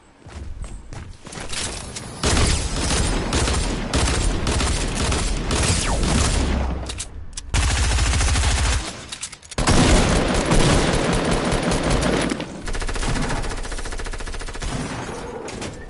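Dual pistols fire in Fortnite Battle Royale, with rapid, dense bursts of gunshots in quick succession, loud and sustained, broken by brief pauses and footsteps.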